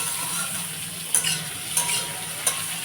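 Mango chutney sweetened with sandesh instead of sugar frying and being stirred in a home kitchen pan: a steady, soft sizzle with a few brief scrapes of a spoon against the pan, no voices.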